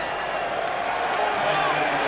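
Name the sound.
stadium crowd cheering for rugby player Chris Whittaker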